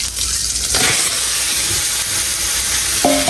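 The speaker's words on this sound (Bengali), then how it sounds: "দেখো আমি রান্না দিয়েছি, এগুলো পুড়ে আসছে।" River chanda fish fritters frying in hot oil, giving a loud, continuous sizzle close by with occasional stirring clinks and bursts of spattering.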